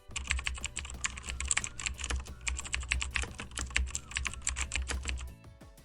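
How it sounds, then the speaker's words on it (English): Rapid keystrokes clatter on a computer keyboard, a quick irregular run of close, crisp clicks that stops abruptly near the end. "you can add a typing sound effect for realism"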